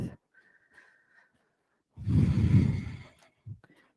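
A loud, breathy exhale during a vinyasa power yoga session, one long audible out-breath of about a second, followed later by a short breath, with faint whistly sounds beforehand.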